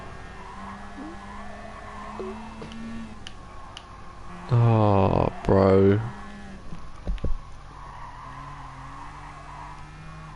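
A Group B car in Gran Turismo Sport skids loudly on a rough dirt road in two harsh bursts over a low engine drone, with a voice talking nearby.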